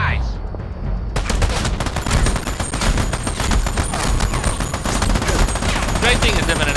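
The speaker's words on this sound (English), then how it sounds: "Great thing is infinite ammo, so you don't even have to ever quit firing" Relentless video game gunfire, a dense loud stream of rapid shots pouring out for several seconds without a break after a brief quieter start.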